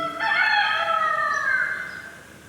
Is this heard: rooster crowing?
yes